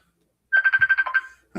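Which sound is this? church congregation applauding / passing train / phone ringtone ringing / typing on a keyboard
phone ringtone ringing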